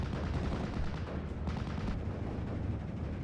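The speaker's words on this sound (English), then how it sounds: "A lot of indirect fire coming into this area." Dense, continuous rumble of indirect artillery and gunfire in the World War II strategy game Steel Division 44, a steady low roar of distant explosions and shots with no clear individual bursts.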